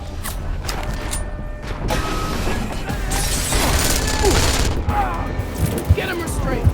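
Gunfire and crashing impacts in the video game Deus Ex: Mankind Divided, a dense burst of shots and booms mixed with game sounds, partly under voices.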